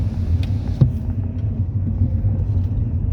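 A car passing on a wet road in the rain, a steady low rumble of engine and tyre hiss, moderately loud and close, with a few faint knocks and no talking.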